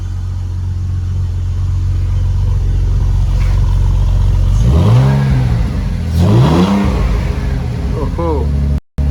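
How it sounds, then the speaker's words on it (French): A BMW six-cylinder car engine idles with a steady low rumble, then revs sharply twice, each rise and fall loud and close, followed by a quicker blip near the end. "elle tourne bien là, hein, direct sur 6 cylindres"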